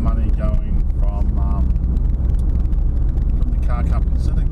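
Driving around Loch Sport, the car gives a constant low rumble from engine and tyres mixed with wind noise, heard beneath a man's ongoing speech.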